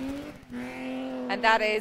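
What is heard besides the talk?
rally car passing on the Curragh stage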